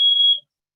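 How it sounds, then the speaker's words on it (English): Smoke alarm at a home going off falsely, a single loud, steady high-pitched beep lasting under half a second before cutting out. "have a false fire alarm here at my house"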